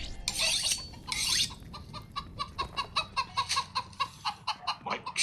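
Chickens cluck in a rapid, regular run of short pulses, loud and close, after a couple of harsher squawking bursts at the start.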